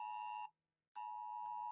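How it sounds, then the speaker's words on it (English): Electronic alarm sounding in steady high beeps, one long tone that cuts off briefly and then resumes, clear and close with no voices. "Here goes my alarm again."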